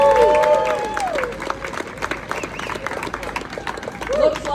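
Warm applause from an audience at the Scenic Shores 2025 charity ride opening ceremony, greeting LLS's Chief Medical Officer as she comes up; dense steady clapping with some cheering and crowd murmur, fading slightly before a brief voice near the end.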